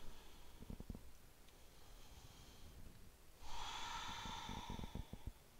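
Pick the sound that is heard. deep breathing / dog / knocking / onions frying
deep breathing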